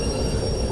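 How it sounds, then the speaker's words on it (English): A train braking in the Derail Valley video game, a loud continuous rumble of rolling wagons with a steady high-pitched wheel squeal over it. "Probably start using the train brake"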